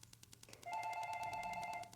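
A telephone rings in an architecture studio office, starting quietly and then holding a steady trilling electronic ring for over a second, fairly faint, with no one speaking.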